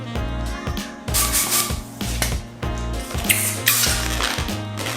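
A 260 twisting balloon being inflated with a pump: rhythmic rubbing, hissing strokes with low thumps, repeated steadily about once per second, close and fairly loud with no talking.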